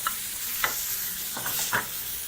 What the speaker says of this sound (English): you can now proceed to toss your ingredients in your pan